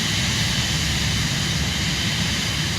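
The Cirrus Vision Jet's engine in Microsoft Flight Simulator roars as a steady, loud, broadband jet rumble with a constant whine, unbroken and with no voices.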